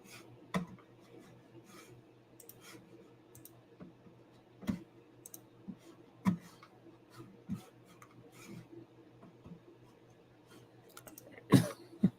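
Sharp mouse clicks come scattered and irregular, a dozen or so spaced over a quiet late-night gaming session with faint background hum and no talk.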